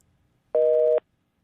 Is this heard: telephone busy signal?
yes